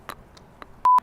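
A single short telephone tone: faint clicks, then a loud, clean electronic beep lasting a fraction of a second, alone with no voices.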